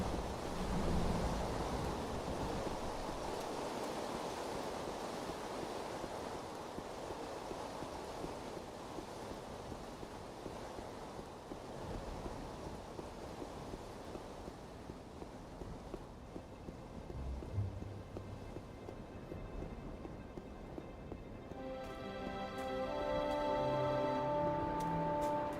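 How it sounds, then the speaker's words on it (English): In Anarchy Online, a storm on Rubi-Ka roars as a steady broadband rush of wind and rain, swelling and easing over time, with a faint musical tone rising near the end. "There is an ominous storm on Rubikar."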